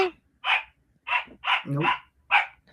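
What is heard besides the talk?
dog barking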